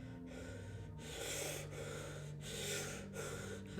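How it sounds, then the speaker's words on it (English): A merchant in the Resident Evil Village shop breathes close in the ear, with repeated heavy, gasping inhales and exhales in a steady rhythm over a low humming background. "I don't know why he's like breathing in your ear as you're in the shop"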